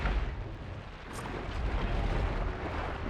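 A dense, roaring explosion from a heat sink being blown up in Horizon Forbidden West, a continuous rumbling blast with crackling debris that swells and sustains for about three seconds.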